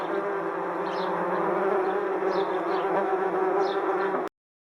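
A swarm of killer wasps drones in a dense, loud, unbroken buzz, with a few higher whines passing over it, before stopping abruptly after about four seconds.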